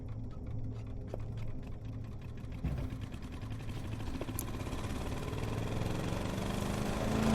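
Engine in the video game Ellen starting up and settling into a steady mid-pitched idle, a continuous rumble that grows slightly louder toward the end, with no talking.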